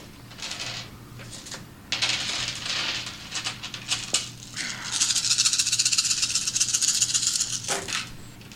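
Dice clatter and rattle across a tabletop during a Werewolf: The Apocalypse tabletop game session, several bursts of tumbling clicks building to a longer, busy skitter, close by with no voices over it.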